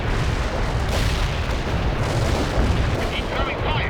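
Artillery barrage in the World in Conflict war game, a dense continuous roar of rumbling explosions and booms with a voice faintly under the din.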